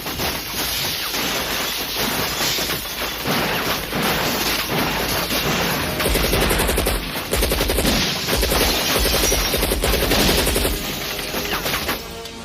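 Rapid automatic gunfire and bursts of shots in a video game, loud and continuous, with dense overlapping volleys and crashes and no talking.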